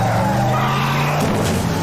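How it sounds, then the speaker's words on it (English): A car skids with a sustained tire squeal in a 1996 film scene where it strikes a man, loud and steady for under two seconds, then shifts in pitch near the end. "The car hit him"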